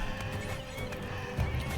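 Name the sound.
donkeys braying in RimWorld video game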